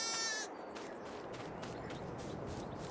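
Sheep bleating in a large barn in the farming game Farming Simulator 22, one short bleat at the start, then a quieter ambient barn hum with light shuffling.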